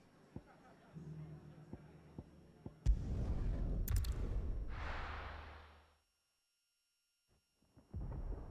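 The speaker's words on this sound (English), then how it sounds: "Sounds like thunder." Deep thunder rumble from the video game Final Fantasy XVI, starting with a loud crack and rolling on for about three seconds before fading into silence, with low game ambience and faint sounds around it.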